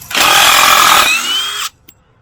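A power drill whirs loudly at high speed for about a second and a half, backing out screws that held form panels in soft, fresh concrete. The pitch drops slightly near the end before it cuts off abruptly into quiet.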